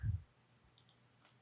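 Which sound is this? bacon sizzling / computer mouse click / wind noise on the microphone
computer mouse click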